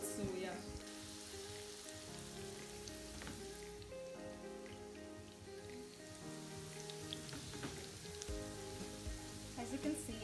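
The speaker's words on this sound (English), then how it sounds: "You're just gonna cook them until the other side turns brown" Grated potato hash browns frying in a pan, a quiet continuous sizzle and crackle with faint background music and no clear talk.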